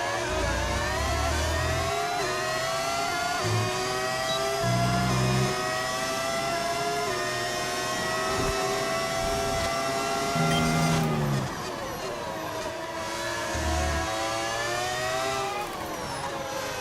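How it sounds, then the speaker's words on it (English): A V10 engine from early-2000s Formula One in the F1 25 racing game screams continuously near and loud, its pitch climbing and dropping with repeated upshifts and a sharp gear change about two-thirds through. "It's just a V10 from like early 2000s Formula One."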